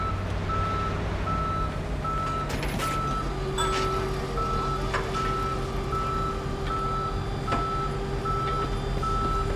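A tow truck in Police Simulator: Patrol Officers reversing, its backup alarm repeating steady evenly spaced beeps over a low engine drone and scattered clanks.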